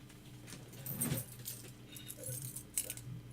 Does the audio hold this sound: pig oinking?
no